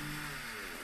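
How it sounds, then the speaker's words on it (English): A chainsaw cuts slowly in a clip being watched, giving a steady buzzing engine drone at a faint, distant level with a sustained tonal whine. "I don't know what kind of chainsaw he's using, but it's taking forever"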